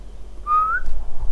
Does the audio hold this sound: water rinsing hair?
no